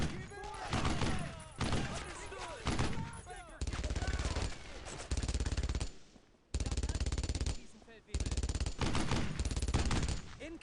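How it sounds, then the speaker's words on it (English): Rapid machine-gun bursts and scattered rifle shots from a World War II battle in Brothers in Arms: Road to Hill 30 crackle in loud, choppy volleys with short gaps, while soldiers shout over the firefight. "Incoming fire!"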